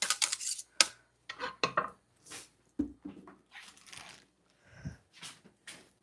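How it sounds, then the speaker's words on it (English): A knife cuts small carrot pieces on a cutting board, making irregular chopping taps and clatters, close and moderately quiet, with brief scraping and light knocks between cuts. "I'm just going to cut up these little pieces that didn't make it"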